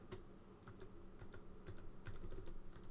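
Continuous typing on the ZX Spectrum Next computer keyboard, a steady run of close, crisp key clicks with irregular rhythm over a low room hum, no voices.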